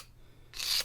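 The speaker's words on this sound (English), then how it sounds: "take a knife and just very, very gently scrape" A knife blade scrapes gently along an Indian hemp stalk, lifting off the brittle outer bark in one short, soft rasping stroke after a near-silent pause.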